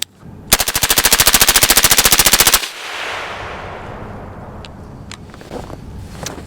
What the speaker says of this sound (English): All right, so we're gonna shoot this way, just like this.